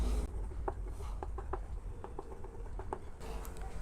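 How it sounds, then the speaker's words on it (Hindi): Chalk scratching and tapping on a classroom board, short strokes in an irregular rhythm, close and fairly quiet, with a brief pause partway through. "यहाँ पे मैं लिख भी देता हूँ।"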